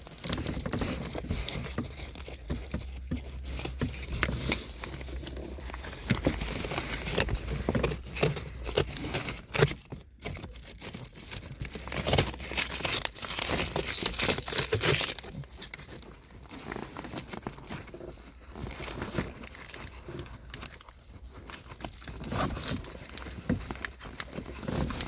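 Rustling, scratchy friction of Velcro straps being pulled through fabric car seat upholstery while sport bucket seats go into a 2009-2015 Toyota Tacoma, close and fairly quiet, with irregular bursts of patter and crinkle.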